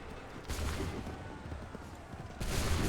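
A musket volley erupts in the Assassin's Creed 3 video game, a dense crackling burst of massed gunfire that holds steady, then a second loud volley breaks out near the end.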